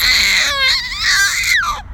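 A baby yells and babbles in loud, high, wavering cries sliding up and down over about two seconds, close and alone.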